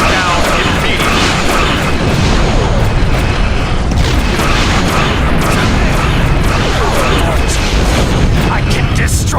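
Starship weapons fire and explosions rumble in Star Trek Online, a loud, dense barrage of booms and bursts running continuously with a voice talking over it.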